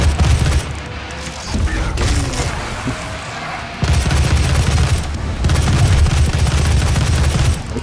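Assault rifle fire in Doom, rapid loud bursts of gunshots with booming impacts, near and dense, continuing in clusters across the stretch.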